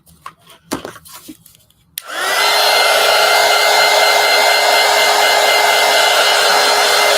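A hair dryer blasts on after a few faint taps and rustles, running loud, close and steady as it dries a freshly misted collage piece, holding an even roar to the end.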